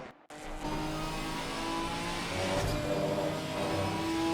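A Ginetta Cup race car laps Silverstone in Assetto Corsa Competizione, its engine droning loud and steady as it accelerates, with revs climbing gradually and no voices.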